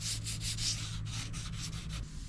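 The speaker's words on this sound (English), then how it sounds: "If you did forget, well, you still want to do a full sand with guide coat." Rhythmic back-and-forth sanding strokes on body filler and guide coat over a car hood dent repair, about ten even rasping passes, close and steady with no voices.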